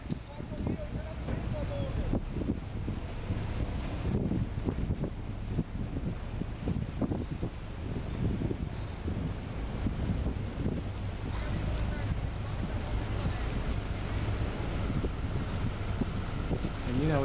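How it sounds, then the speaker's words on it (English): Motorboat ride through Venice toward the Rialto area on an overcast day, a steady broadband engine and water rush with wind buffeting the microphone throughout, continuous and fairly loud, with voices talking over it. "this is the trip we took on the motorboat"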